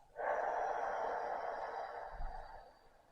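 A slow, steady exhale through the mouth during a yoga breathing exercise for the lower back and calves, a close, soft airy rush lasting over two seconds that fades toward the end.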